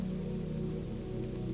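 Steady drizzle patters on surfaces in a soft, even wash close by, with no voices and no break in the sound.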